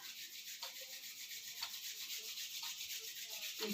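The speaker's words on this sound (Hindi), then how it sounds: "rub your palm" Palms rub together in a children's yoga class, a soft steady swishing friction with slight rhythmic pulses, faint and close, with no voices.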